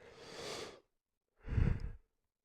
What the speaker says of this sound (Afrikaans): ek weet nie hoekom ek soveel gaap nie